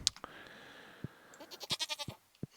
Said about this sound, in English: A little goat getting some love.